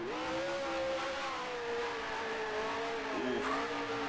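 A race car engine in the racing game Grand Prix Legends revving steadily through a gear, a sustained buzzing drone with rising and falling pitch and a brief shift dip near the end.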